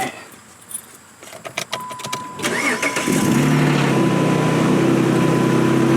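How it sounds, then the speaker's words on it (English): Keys jangle, then a car engine cranks and catches, settling into a steady idle with the air conditioning about to run on high; no talking. "I'm going to turn the car on and turn the AC on high"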